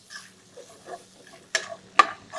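Mixed vegetables with salt and a little coriander powder are stirred in a pan for vegetable pulao, giving faint, soft scraping strokes with two sharper metallic clinks near the end and no talk.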